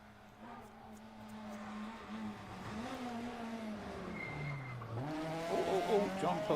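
A small Citroën Saxo rally car understeers through a bend on a Cork stage rally, its engine note climbing and sliding in pitch as it passes fairly close, with a commentator talking over it.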